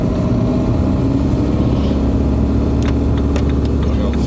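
A car accelerates during a driving lesson with a learner at the wheel. The engine hum heard from inside the cabin is steady, loud and continuous, with a few faint clicks and no talking.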